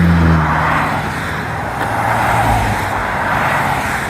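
Road traffic rushes past a road crossing on the Appalachian Trail, cars approaching and passing in a loud continuous wash with swells as vehicles go by.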